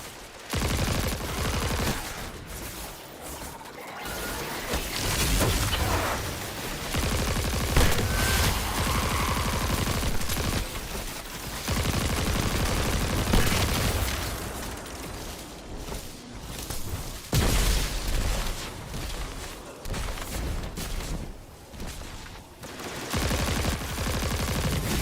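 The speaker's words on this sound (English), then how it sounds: "I like the sound this gun makes" Video game gunfire rattles in sustained bursts and volleys throughout, loud and close, with short gaps between strings of shots and heavier booming hits mixed in.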